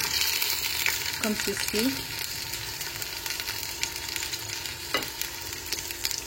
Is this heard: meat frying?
yes